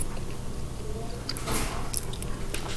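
Close, wet chewing of a chocolate muffin, soft squishy mouth sounds with occasional smacks and clicks, steady and intimate with no talking.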